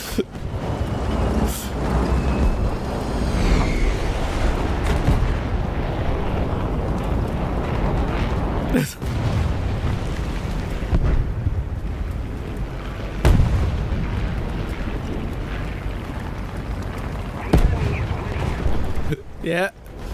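Heavy tank cannon shots from a Maus in the War Thunder video game, several sharp booming blasts spaced seconds apart over continuous engine rumble and battlefield noise, with talk throughout.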